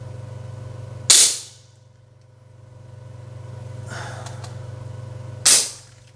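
Two sharp pops from a HWASAN double-barrel gel blaster shotgun, about four seconds apart, each a crisp loud crack over a steady low hum, with a faint hiss of gas in between.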